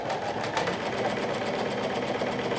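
Sewing machine running steadily while top stitching the layers of a bucket hat, a continuous close mechanical whir and hum with no talking.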